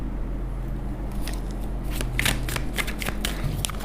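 Tarot cards shuffled and drawn by hand, with a steady riffling, flicking patter and a few crisp snaps as cards slide off the deck, close up over a low background hum.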